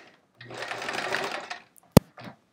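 A domestic sewing machine runs in one steady burst of about a second while free-motion quilting elongated swirls on a chevron quilt, then stops. A sharp click follows, then a brief soft sound.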